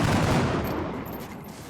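Rifle fire in XCOM: Enemy Within with the Long War mod, one loud burst of gunshots that rings out and slowly fades over under two seconds, with no talking.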